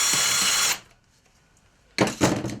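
Power drill whirring through a drilled hole in a homemade fishing rod rest, two loud bursts separated by a short quiet pause.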